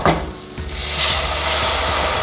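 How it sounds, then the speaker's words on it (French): Veal paupiettes sizzle steadily as they brown in a pan with onions and a splash of white wine, a continuous close frying hiss that swells slightly partway through, with no talk over it. "On fait dorer notre paupiette."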